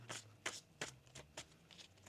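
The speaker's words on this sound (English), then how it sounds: "One more shuffle here, please" Tarot cards shuffled by hand close up, with six or seven quick crisp riffling bursts spaced unevenly over a couple of seconds, quiet and alone.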